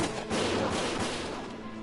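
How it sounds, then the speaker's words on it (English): Continuous dense crackle of rapid gunfire with booming thuds, a sustained firefight in the game Valkyria Chronicles, loud game mix with no pauses. "Gunfire!"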